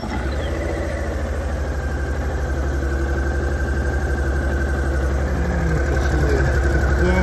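A 2009 Honda DN-01 motorcycle idles close by with a steady, even engine rumble that holds throughout, slightly louder toward the end.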